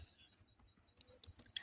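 Soft, quick clicks of fingers typing on a computer keyboard, faint and close, with irregular keystrokes growing slightly louder toward the end.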